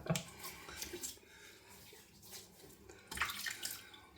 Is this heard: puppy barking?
no